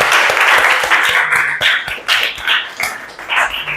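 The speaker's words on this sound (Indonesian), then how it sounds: "selanjutnya kita beri aplaus kepada semua kelompok yang maju" Applause from a classroom of students cheering the groups that presented, a steady burst of many hands clapping close by that continues throughout.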